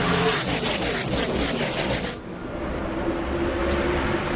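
NASCAR race cars at the 2010 Sam's Town 300 roar loudly past on a green-flag restart, the dense engine noise shifting abruptly partway through as the pack passes.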